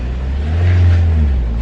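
A car engine labouring hard on a steep mountain slope in northern Pakistan, a loud, steady low drone that swells in the middle as it strains without climbing.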